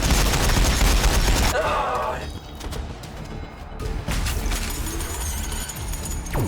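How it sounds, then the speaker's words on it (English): Gunfire from a Warhammer 40,000: Battlesector battle involving Battle Sisters, dense bursts of shots and impacts at first, then a brief lull before more sharp cracks and rattling fire return, with voices mixed in. "We're taking fire!"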